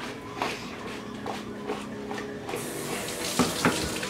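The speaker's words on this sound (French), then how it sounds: "Je vais fermer de l'eau" Kitchen tap running water in a steady splashing stream, with a few clinks and shuffling movements nearby, then a brighter, louder rush of flow near the end.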